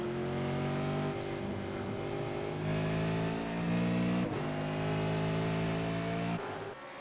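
Ruf S3R4 supercars racing at Imola in a video game, engines droning loud and continuous with rising revs and sharp gear changes, several cars blending together.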